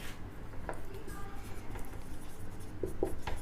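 Chalk or marker scratching on a classroom board as a teacher writes, soft intermittent strokes under a steady room hiss.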